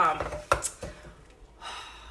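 A Pampered Chef Mix 'N Chop tool mashing and chopping avocado, with a few sharp thunks against the bowl and soft squishy scraping in between, partly under a person talking.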